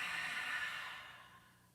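A long deep exhale during a yoga stretch, a close, breathy hiss that slowly fades away, with no talking.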